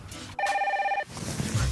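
An electronic telephone ring sounds once, a bright, steady warbling tone lasting under a second, loud and close, then room noise resumes.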